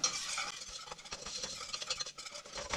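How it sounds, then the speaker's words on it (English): Flour for a pie filling browns in a pan while a utensil stirs it constantly, giving a steady dry scraping and shuffling with a light sizzle, close and continuous with uneven strokes. "You want to make sure you're stirring this constantly because it will easily burn."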